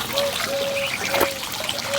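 Water trickles and splashes steadily during hand washing of clothes at home, a close, continuous dribble with faint bright drips on top.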